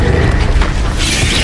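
An Accio spell cast in the Hogwarts Legacy video game, a short loud whooshing magical burst with a booming low rumble and a bright airy swirl toward the end.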